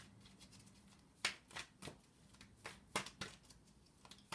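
Tarot cards are quietly shuffled and laid down from separate decks, giving soft irregular riffling and crisp slaps and flicks of card stock in close, faint bursts.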